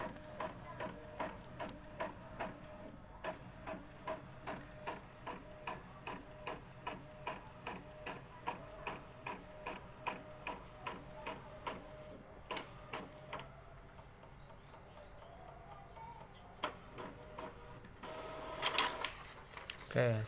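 An Epson L1110 inkjet printer prints a test page, its carriage making a steady, rhythmic run of mechanical clicks and whirs for most of the stretch, then a quieter pause and a few louder bursts of feed noise near the end.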